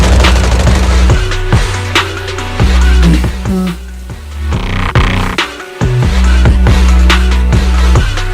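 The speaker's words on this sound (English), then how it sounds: "Gunfire? This pattern. Suppressive marching fire." Rapid suppressive marching gunfire from an enemy squad in the Zenless Zone Zero video game, a dense run of sharp shots and booms layered over a loud music score.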